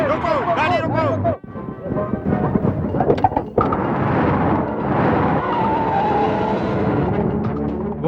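A car skids with a squeal of tires, a harsh screech breaking into a rough engine-driven rush over several seconds, loud and close, with shouting voices over the start.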